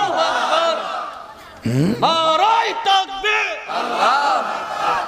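A crowd at an Islamic religious gathering answers a preacher's call with a loud, unified shout of takbir, voices rising together in a chanted response, preceded and followed by the preacher's amplified speech.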